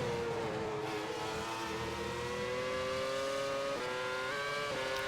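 A sim racing car, an orange McLaren-like machine, heard in a video game, its engine droning and pitch-shifting steadily as it brakes into turn 1, with gear changes audible toward the end.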